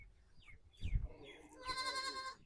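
A goat bleats on a farm with a wavering, nasal cry near the end, preceded by faint thumps and soft chirping sounds at low volume.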